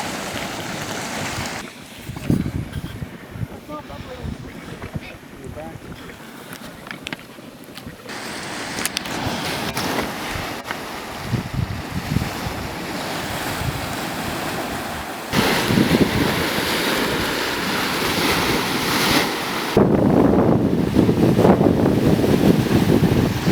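Loud river rapids roar at Yellowstone, a thick continuous rush of water mixed with wind buffeting the microphone, swelling louder toward the end.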